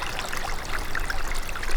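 A stream of water runs steadily downhill, making a continuous close trickling, gurgling rush with small splashes and no voices.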